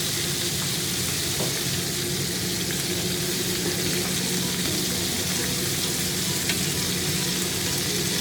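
Steak sizzling steadily in a cast iron skillet with garlic and rosemary, a continuous close hiss of frying with faint pops and crackles throughout, no voices.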